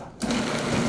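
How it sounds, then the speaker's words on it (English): A food processor chops chunks of beef rump roast, its motor starting abruptly with a loud, steady whirring drone that runs to the end. "I'll process it in the food processor"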